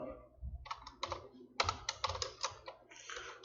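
Fingers tap out VB code on a computer keyboard in quick, uneven bursts of close keystrokes with brief pauses between runs, over a faint low hum.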